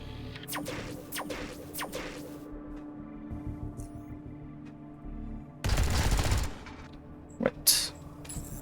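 Light machine gun fire from the video game Underrail: a quick burst of rapid shots, then a quieter stretch with a low hum, followed by a longer, louder burst and one more isolated shot.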